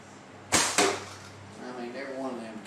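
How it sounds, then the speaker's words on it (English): A single arrow shot in a hallway range gives a crisp double crack, bowstring then target strike, trailed by a low hum and a voice murmuring in the background. "But I sure love watching that arrow fly."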